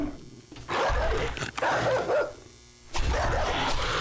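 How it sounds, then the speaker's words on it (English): A dog in the video game 7 Days to Die barks and growls in a few loud, rough bursts, with short quieter gaps between them. "There is such a thing as a bad dog, and that's it right there."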